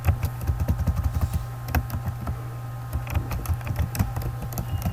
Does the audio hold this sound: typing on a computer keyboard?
yes